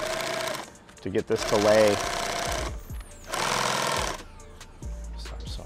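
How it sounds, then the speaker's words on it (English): A fast-running sewing machine whirs in two loud bursts, with a person talking between and over the stitching runs. "Start sewing fast, the machine cut the thread"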